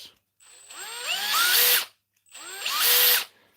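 A brushless cordless drill spins up twice in quick bursts, each a rising whirring whine that holds for about a second before stopping, loud and close with no talk.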